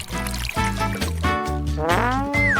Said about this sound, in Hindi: अब इसमें गर्म पानी डालती हूँ।